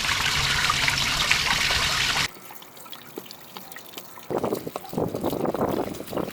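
Water gushes and trickles as the clean and grey water tanks of a lived-in van are drained, a steady rushing flow that cuts off abruptly, followed by quieter drips and then renewed splashing bursts.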